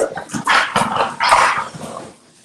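American bully dogs growl and bark in a loud, close burst of rough snarling and short gruff barks that lasts about two seconds before fading out.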